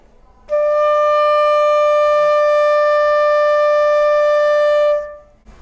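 A wind instrument holds a single steady note D in the middle register, clear and loud, sustained for about four and a half seconds before stopping cleanly.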